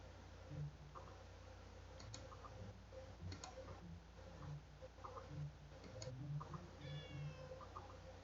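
A cat in the video game Detective Di meows several times in short, soft calls, spread across a quiet, steady background hum with faint ticking.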